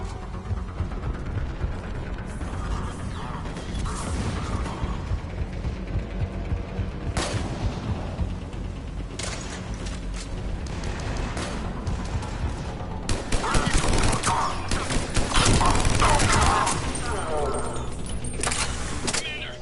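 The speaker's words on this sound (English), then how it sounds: "Commander, we're getting a lot of mortar fire." Mortar fire on a Mass Effect 3 battlefield: heavy, repeated explosive bursts and crackling gunfire that grow denser and louder toward the end, with voices talking over the combat.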